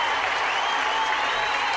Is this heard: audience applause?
yes